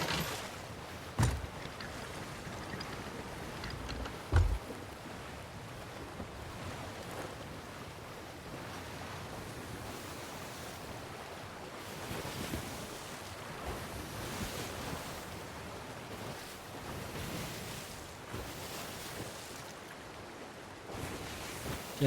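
Massive rolling sea waves in the pirate game Sea of Thieves produce a steady, continuous roar of surf mixed with wind, with occasional louder crashes and no voices.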